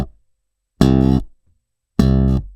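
Short slapped C on the 3rd fret of the A string on a bass guitar, struck twice with a sharp attack and cut off quickly, leaving clean silence between the two close, punchy notes.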